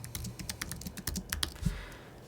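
Computer keyboard typing, a comment being written: rapid, uneven clicks of keys pressed close by, steady and fairly quiet with no voices.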